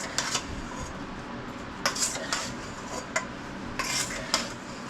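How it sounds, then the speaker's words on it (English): A utensil scooping and turning peach cobbler topping in a bowl, with a few scraping and clinking strokes against the bowl at an easy, irregular pace, close and fairly clear. "I'm just scooping and turning, making sure I get everything mixed in"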